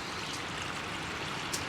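Water pours from a litre bottle into a pot at a windy campsite, a steady continuous splashing gush with no break.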